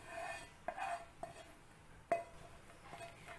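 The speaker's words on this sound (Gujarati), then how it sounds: "હવે આપણે તેની અંદર આ ગોળવાળું સિરપ ઉમેરી દઈશું" Jaggery syrup being stirred into cooled milk for kheer, a spoon scraping and lightly clinking against the pot in a few faint, separate knocks, with no talk.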